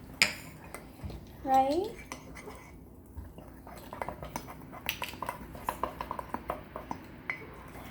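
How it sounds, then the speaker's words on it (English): A spoon stirs mug cake batter, clinking against the mug in a quick run of small, close taps in the second half, after a brief voice. "So now we are going to get our spoon. And we're going to mix that all up."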